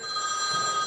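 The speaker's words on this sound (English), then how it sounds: "Would you mind answering the phone?" An old-fashioned telephone bell rings in a steady, bright, sustained burst, loud and close, heard alone on a stage play set.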